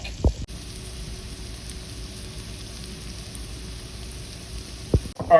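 Celery and green onions sizzle steadily in a hot pan, a continuous close frying hiss with brief clatters of a utensil at the start and end.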